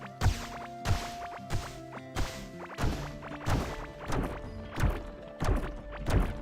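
Heavy, repeated sledgehammer blows striking stone walls in the game Core Keeper, a steady series of loud thwacks about every half second, close and without talk.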